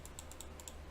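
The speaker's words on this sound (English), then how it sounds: "Pardon my clicking." Quick, faint clicks and keystrokes come from a computer keyboard and mouse, roughly eight light, evenly spaced taps in a row over a soft background hum.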